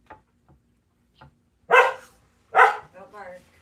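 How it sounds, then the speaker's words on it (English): A dog barks twice, loud and close, after a few faint taps and before some softer whimpering yips, in a quiet indoor room. "Don't bark."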